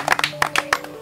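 A church congregation claps in brief bursts while praising the Lord, a quick rhythmic run of handclaps, moderately loud and close.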